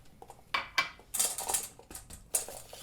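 Whisk clattering against a bowl while mixing softened cream cheese and powdered sugar: a fast, irregular run of bright clinks and scrapes, close and moderately loud, with no talk.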